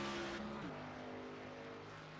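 A race car on track during pole day qualifying in a sim racing game, the #00 entry running its lap: a steady, close engine drone with a sharp pitch drop just before the one-second mark, then holding a lower sustained tone.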